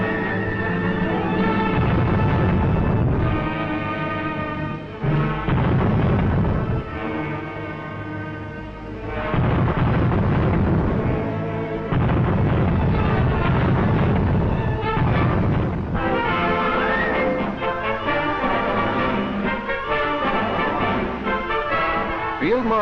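Anti-aircraft guns of a wartime army fire in a sustained barrage, heavy booming bursts layered over one another, loud and continuous with brief lulls and a dense rumbling roar throughout.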